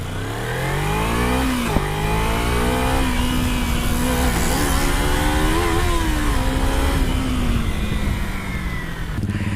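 A motorcycle engine accelerates on a back-road ride, its tone rising and dipping through throttle changes and gear shifts with steady wind noise, close and loud, with no talking.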